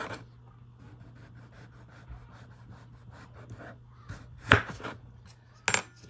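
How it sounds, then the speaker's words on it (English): A knife slices through a potato, cutting thin pieces about 1/8 inch thick for baked potato chips; two crisp, close cuts land near the end over a quiet background hum. "right in the edge of the potato that I'm cutting"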